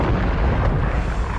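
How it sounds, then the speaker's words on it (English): A Fireball spell in a video game bursts as one short, loud, dense explosion with a full roaring rumble that fills the whole moment. "I cast Fireball"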